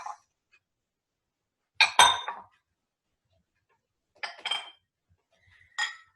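Empty bowls are set aside on a counter while making homemade playdough, giving several sharp ceramic clinks and knocks in separate clusters with silence between, close and crisp.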